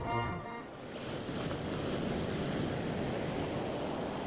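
Ocean waves rush and wash continuously, a loud, steady roar of surf mixed with wind.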